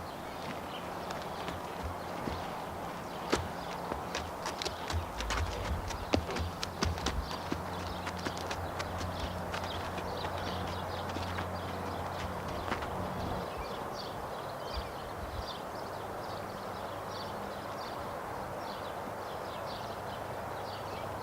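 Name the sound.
horse walking with saddle, hooves clip-clopping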